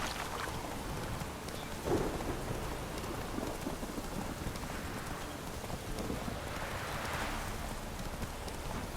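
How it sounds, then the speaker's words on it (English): A thunderstorm in the video game The Witcher 3 brings steady, dense rain with a loud crack of a lightning strike near the two-second mark and a rumbling swell later on. No one speaks. "Lightning strike."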